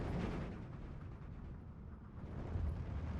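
60mm mortar fire in the war game Steel Division 2: a dense, rumbling wash of distant explosions and blasts rolling together, with heavier booms swelling near the end and no talking.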